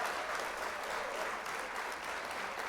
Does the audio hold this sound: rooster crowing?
no